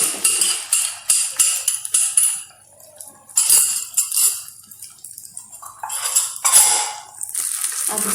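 Green omelette cooking in a pan with ghee: scraping and clinking of a utensil against the pan in quick bursts, with short pauses and a soft background hiss, no talking.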